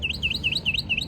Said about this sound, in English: Go away, bird.